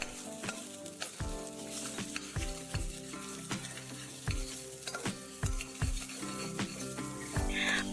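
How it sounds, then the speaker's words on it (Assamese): Pork pieces dry-frying in a hot wok without oil, a loud continuous crackling sizzle punctuated by sharp spatula scrapes and clanks at a steady stirring rhythm, with no talking. "এতিয়া মই কেৰাহীখন গৰম কৰি তাত তেল মাংস 6-7 টুকুৰামান দি তাৰ পৰা তেল ওলাই যোৱাকৈ অলপ সময় ভাজি ল'লোঁ।"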